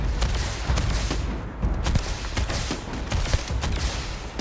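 Rapid, loud gunfire from a firefight in Starfield on PC, shots cracking in dense overlapping bursts through a wooded tree line, with a short lull before the volley resumes.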